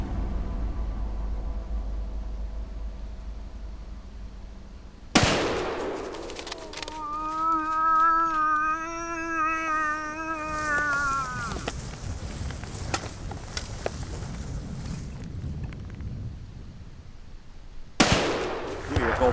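A rifle shot fired at a moose during a remote fly-in hunt in Newfoundland, a sudden loud crack that cuts through quiet outdoor ambience and is followed by a sustained ringing tone and a second sharp burst near the end.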